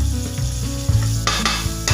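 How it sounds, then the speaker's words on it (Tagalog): Margarine heating in a hot pan, a continuous close sizzle and crackle with a few stirring scrapes and a brighter burst of frying toward the end. "magpainit tayo ng kawali. Hindi po mantika ang gagamitin natin kundi margarine."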